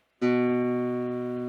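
A single plucked guitar note on the second fret of the A string rings out clearly and sustains, fading slowly over a quiet background.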